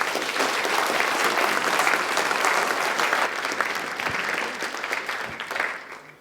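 Sustained applause from an audience at a young writers' award ceremony as a prize winner is congratulated, dense and even clapping that fades slightly at the end.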